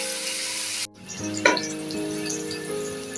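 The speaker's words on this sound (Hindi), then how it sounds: "प्याज हमारी चली गई है हमारे बर्तन के अंदर और इसको हम गोल्डन ब्राउन होने तक इसको हम पकाएंगे" Onions fry in a pot for Lahori chicken cholay, a brief hush before a sharp spoon scrape, then a steady crackling sizzle continuing close and fairly loud with no talking.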